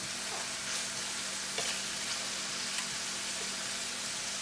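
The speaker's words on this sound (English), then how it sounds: "Now she can turn them slices of pork with them 2 sticks faster than I can with a fork." Slices of pork sizzling in a pan while being turned with two chopsticks, a dense steady hiss close by with faint scraping clicks as the pieces are moved, no voices.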